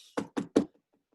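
Three distinct knocks at a door, close and crisp, evenly spaced in quick succession, followed by a few faint soft taps fading into quiet.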